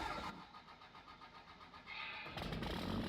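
A lifted truck engine in Farming Simulator 22 cranks with a steady rhythmic churn for about two seconds, then catches and settles into a louder idle, heard alone and fairly close.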